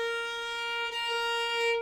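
A violin sustains one bowed B flat played with a low first finger, a steady, rich tone heard alone and close for nearly two seconds.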